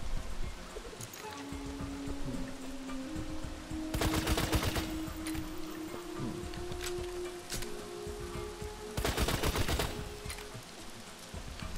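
Bursts of video game gunfire crackle in two loud, dense volleys against a steady rumbling background of game ambience and a sustained hum, with scattered sharper shots in between.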